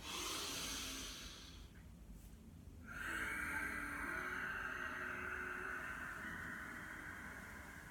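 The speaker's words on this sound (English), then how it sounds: "So it's a sharper breath here" Sharp, forceful breath during a chi kung exercise, heard close as a sustained airy hiss with a brief pause before a second strong exhalation continues to the end.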